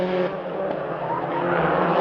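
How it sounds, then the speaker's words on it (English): Mitsubishi Lancer rallycross car at Marulan in an all-wheel-drive final, racing with its right rear tyre nearly off the rim, a steady loud engine roar with tyre scrub over two seconds. "that tyre coming almost completely off the right rear rim on his Mitsubishi Lancer, and he's hanging on to this car"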